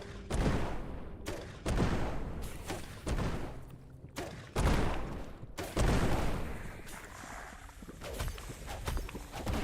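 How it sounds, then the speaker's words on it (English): A bomb dropped by a boss explodes in the game Core Keeper amid a series of heavy booming bursts and impacts. Five or six loud hits come at irregular intervals, each decaying quickly. "Oh, that was a bomb it dropped."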